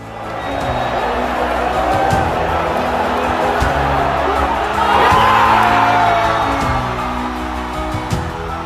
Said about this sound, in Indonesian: Sorakan tak terbendung. Seluruh stadion seperti berguncang.